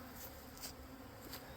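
Honey bees crowd an open feeder pool, their buzzing a steady faint drone close by with a few brief louder swells as individual bees pass near.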